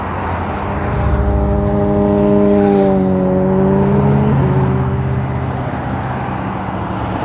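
Road traffic streams past on Centerra Parkway in Loveland, Colorado: a steady roadside rumble with one vehicle's engine droning up and its pitch dropping as it goes by, then the flow continues.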